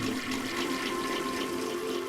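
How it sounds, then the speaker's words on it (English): A toilet flushes in a homemade Tynker video game, a steady loud rush of water that fills the whole moment without pause. "I just keep pressing the flusher instead of F. Just keep flushing."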